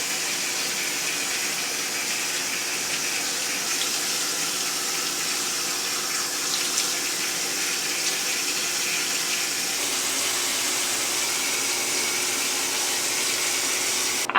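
Tap water runs steadily into a bathroom sink while someone wets their face, a continuous close splashing rush with no talk.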